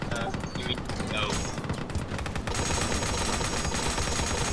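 A tank machine gun firing in the WW2 game Total Tank Simulator, sustained rapid bursts over a dense battle din of gunfire, loud and continuous without pause.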